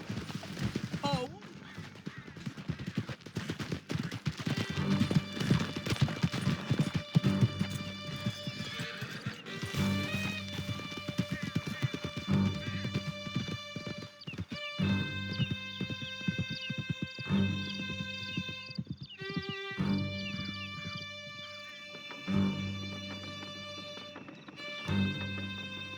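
Horses galloping in Red Dead Redemption 2 during an escape ride through a canyon, steady clip-clop hoofbeats with occasional neighs running throughout under a layer of music and intermittent talk.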